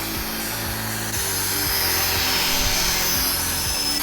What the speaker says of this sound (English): That's what the drone looks like way up in the air. And bring it on back down.